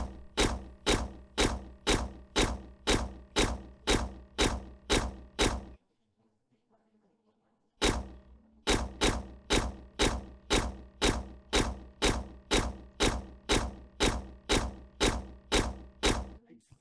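A game turret fires nonstop in a fast, even rhythm of sharp thumping shots, pauses for about two seconds, then resumes the same relentless repeating fire.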